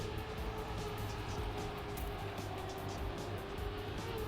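A racing car in a video game engine drone steadily, holding a constant roar as it drops into a turn, loud and close with no break.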